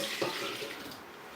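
Water from a tap running into a blender jar while it is rinsed out in a kitchen during cooking of benachin, a short steady splashing rush at moderate level.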